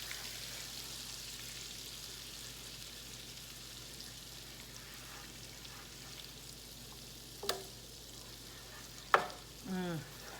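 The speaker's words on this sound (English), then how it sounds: "So I'm just gonna melt up this butter, twirl it around, and it'll go quicker." Butter melting in a pan on the stove gives a steady, faint sizzle and hiss for the whole stretch, with a couple of sharp utensil clinks near the end and a short scraping swirl of the pan.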